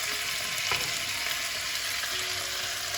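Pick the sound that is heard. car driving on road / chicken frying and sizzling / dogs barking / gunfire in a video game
chicken frying and sizzling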